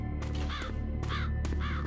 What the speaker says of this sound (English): Calm down, little crow